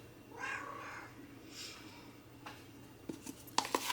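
Momo, an orange cat, gives two drawn-out meows early on, then quieter chirps, with soft clicks and scratchy noises toward the end, close by and with no talking.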